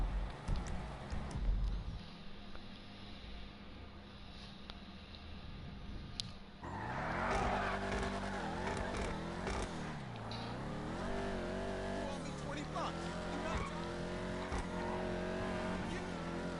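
Overflod Tyrant supercar in GTA Online drives steadily, engine note sweeping up and down through gear changes after a quieter opening stretch, with faint talk underneath.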